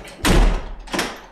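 Doors being shut by staff in a conference hall, two broad thuds about a second apart, the first heavier and louder, with room reverberation in a large, quiet space.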